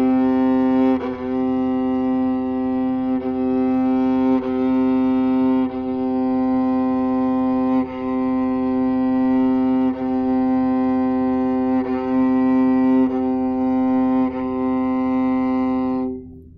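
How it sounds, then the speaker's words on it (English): A viola's open C string bowed in a long series of sustained strokes, a rich low tone with audible bow changes every second or so, close and steady for about sixteen seconds. "your C string, which is one of the most beautiful strings on the instrument"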